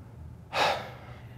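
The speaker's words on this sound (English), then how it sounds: "Open the mouth and gasp it out." A single sharp open-mouthed gasp of breath pushed out during a yoga breathing exercise. It is close and brief and stands out clearly against a quiet background.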